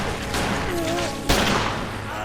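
Gunfire from a Resident Evil game cutscene on the PlayStation: a burst of shots with a sharp loud report near the middle, set in a busy mix with voices.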